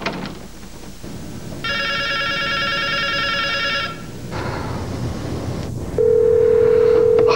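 A telephone rings with a long electronic trill burst, a pause and then a steady tone, loud and close over background noise.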